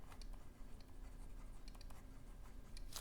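Pen scratching out a statement by hand during a French maths lesson, near and steady, a continuous dry scrape with a few sharper strokes toward the end.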